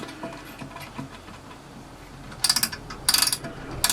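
The ratchet thimble of a vintage Mitutoyo 117-101 uni-micrometer being turned, two quick bursts of crisp clicking after quieter handling sounds.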